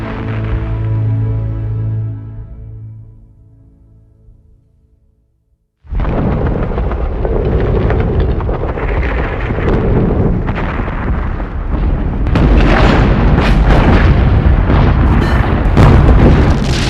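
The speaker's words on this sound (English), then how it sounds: "The week leading up to the first day of fighting saw the longest and heaviest bombardment" Heavy artillery bombardment from the WWI Battle of the Somme, a long, loud rumbling roar of continuous explosions that builds after a deep boom decays into near silence.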